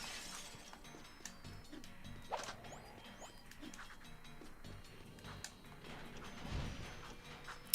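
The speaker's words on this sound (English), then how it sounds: "It's like the only level that like breakable glass is used as well." Breakable glass shattering in the PS2 game Jak 2, scattered crisp cracks and tinkling breaks spread over a busy, quiet game background with several sharp hits and no voices.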